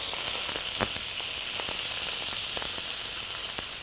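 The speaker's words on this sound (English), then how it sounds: "Just a few seconds in hot oil." Octopus pieces browning in hot oil give a close, steady bright sizzle, a constant hiss dotted with sharp crackles and pops, with no talk.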